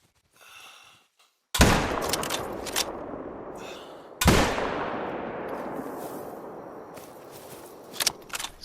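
Hunting rifle shots in a hunting video game, two loud sharp cracks a few seconds apart, each trailing into a long rolling echo, with faint rustling afterward.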